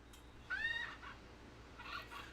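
A faint bird call sounds in a quiet indoor background: one short, strained squawk followed by a softer, rougher note a moment later.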